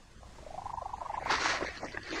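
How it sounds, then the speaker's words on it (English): A cat purrs close by in a short pulsed burst that rises into a higher, whining pitch, ending in a breathy rush of sound. "Cats have perfected a purr that we find impossible to ignore"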